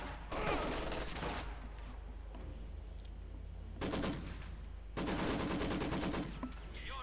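Maxim machine gun fire in Company of Heroes 2: long sustained bursts of rapid, evenly spaced shots, separated by short pauses where quieter distant gunfire and battle noise carry on.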